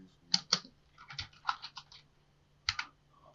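Keystrokes on a computer keyboard come in a quick, uneven burst of close, crisp clicks, then a pause and two final taps, with no talking.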